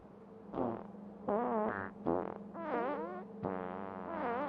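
Cartoonish fart sound effects in the game Factorio, a series of several drawn-out, wobbling toots in quick succession over a low steady hum, loud and close.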